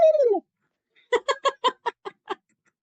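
A person imitates a turkey call with a burst of seven short, evenly spaced gobbling clucks, close and clear, after a brief voiced warble at the start.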